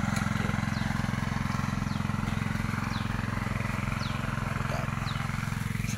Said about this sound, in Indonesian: mesin kultivator.